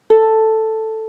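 A single musical note A sounds cleanly on a piano-like instrument, struck once and held, with a clear, pure tone fading slowly for about a second.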